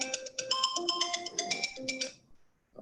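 A mobile phone ringtone rings in a council meeting room: a bright melodic electronic tune lasting about two seconds, fairly close, then it cuts off into quiet.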